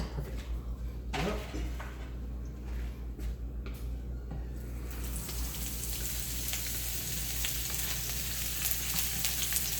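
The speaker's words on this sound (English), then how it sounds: "I'm going to also cook the shrimp, and then I'll add the broccoli in just a second." Shrimp frying in a hot pan with garlic and onions, a steady close sizzle that swells louder partway through, with faint stirring clatter and no talk.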